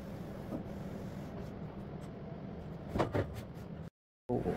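A printer runs steadily while printing a row of company logos for a light board, a continuous mechanical whir with a few brief louder clicks, then a short silent gap before the hum resumes.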